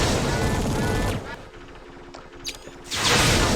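Weapons fire in the mech combat game Mechwarrior 3: dense, loud bursts of gunfire at the start and again at the end, with quieter mechanical clanks and a short electronic tone in the middle.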